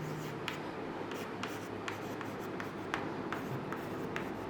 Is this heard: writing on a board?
yes